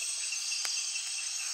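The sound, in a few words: grasshopper chirping in the Amazon at night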